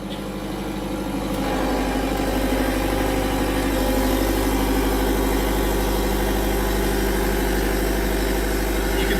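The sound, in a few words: generator set starting up as load increases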